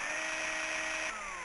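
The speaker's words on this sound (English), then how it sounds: "A drill mounted on a concrete base sits next to the table." A drill mounted on a concrete base is switched on in the video game Tex Murphy: Mean Streets, a steady, loud electronic whine with sustained tones that hold then drop slightly near the end, alone.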